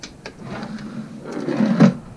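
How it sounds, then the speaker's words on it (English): A drawer full of junk sliding open in a garage workshop, a close rumbling scrape that builds to a clunk as it stops. "Drawer full of junk."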